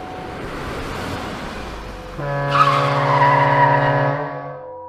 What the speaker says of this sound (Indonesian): Aku yang kaget spontan langsung banting setir dan menginjak rem secara mendadak.